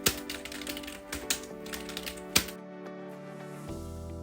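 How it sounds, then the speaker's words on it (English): Fingers type a word on a computer keyboard in a quick, uneven run of close, crisp key clicks, then a short pause and a final tap, with no talking. "Then we'll type in the word alphabets."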